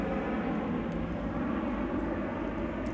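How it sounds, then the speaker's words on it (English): A fixed-wing airplane passes overhead, its engine drone a steady broadband roar that stays loud and constant throughout with no talking. "And of course the plane decides to fly by right now."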